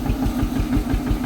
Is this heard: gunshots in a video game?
no